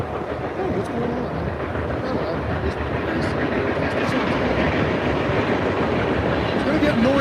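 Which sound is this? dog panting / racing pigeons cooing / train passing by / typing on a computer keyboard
train passing by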